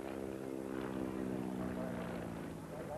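A Fieseler Fi 156 Storch propeller plane drones steadily overhead during a short-field demonstration, its engine hum loud and continuous, with a voice faintly speaking under it.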